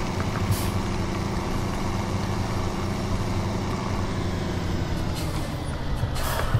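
A harvester drives off in Farming Simulator 2017: a loud, steady engine drone runs throughout, with brief hissing bursts near the start and end, and no voices.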